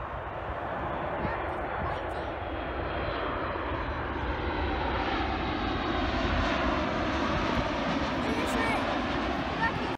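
Airplanes landing at an airport make a steady, loud, continuous engine roar that fills the whole stretch, broad and sustained with no breaks, as if heard from close by on the ground.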